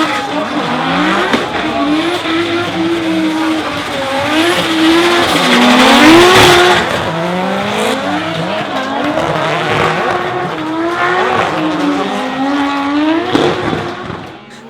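Nico Reed's Luxury Sports Nissan S15 drift car at a D1NZ drifting round in Auckland, running on just one rear wheel, its engine wailing and rising continuously with tyre squeal, loud and close throughout.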